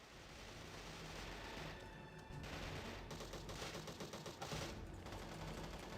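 Assault rifle fire in the game Devil's Third rattles in dense sustained bursts, rapid shots packed together with a brief dip midway before resuming, loud and continuous with no talk.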